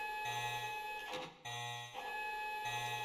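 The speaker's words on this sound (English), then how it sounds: "Is this where the fucking alarm is going off?" A video game alarm rings in repeating pulses, a steady electronic tone cycling on and off about three times, moderately loud with no talk over it.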